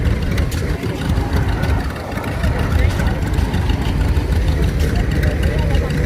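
A 1924 John Deere tractor engine chugging steadily at low revs during a parade, with a busy outdoor background and people talking over it throughout.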